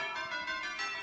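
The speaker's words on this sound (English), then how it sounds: "The NFL Network chimes just" Bright, ringing TV network chime tones for NFL Network coverage, a sustained shimmering stack of bell-like notes swelling and fading over about a second, fairly loud and alone.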